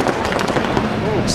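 Paintball markers pop at a 2008 Millennium pro finals match at the Nürburgring as a player is shot, with quick bursts of shots over a loud crowd and a commentator talking over them.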